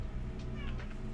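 A cat named Zelda meows briefly, close to the microphone, over a low steady background hum, with a nearby voice talking to her.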